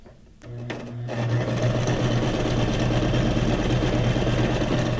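A sewing machine runs a wide zigzag stitch, starting with a few clicks before settling into a steady, loud, continuous mechanical whir with a low hum.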